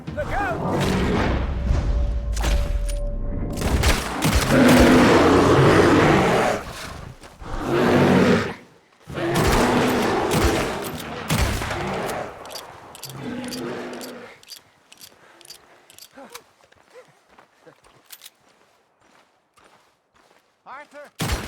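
Gunfire in Red Dead Redemption 2 cracks out in dense bursts among roaring creature noises and shouting voices, then thins into scattered, fainter shots and clicks toward the end.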